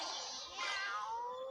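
A single drawn-out cat meow, clear and fairly close, rising then sliding down over about a second with no other sounds around it.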